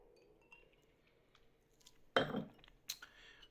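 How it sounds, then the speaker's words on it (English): Ice cubes dropping into a glass of red wine, a loud clattering clink followed by a few lighter glassy knocks, heard alone against a quiet room. "We put a few ice cubes in here to cool the temperature of it."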